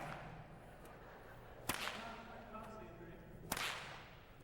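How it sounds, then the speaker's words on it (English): A stock whip cracks twice in sharp, loud snaps about two seconds apart, each followed by a brief swishing tail, heard outdoors over a low background rumble. "a stock whip being cracked in the very beginning"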